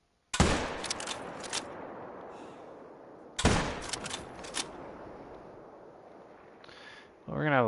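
Hunting rifle shots in theHunter: Call of the Wild, fired from a blind: two sharp, loud cracks about three seconds apart, each followed by a long rolling echo that fades out, with a brief mechanical clatter near the end.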